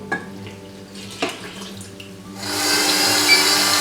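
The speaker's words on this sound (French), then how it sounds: "Maintenant, j'ajoute l'eau." Water runs steadily into a mixing bowl fitted with a dough hook for baguette dough, a broad hissing stream that starts partway through after some quieter kitchen handling noises.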